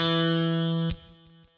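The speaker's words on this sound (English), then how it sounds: "I'll play the note E on the 2nd fret of the D string." An electric guitar sounds the note E on the second fret of the D string, one sustained tone with rich overtones, then two softer plucks in a steady beat as it decays, alone without talk.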